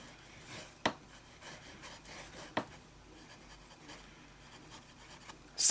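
A fountain pen filled with Private Reserve Gray Flannel ink scratches across paper in a soft, close rasp of strokes, broken by a couple of sharp taps.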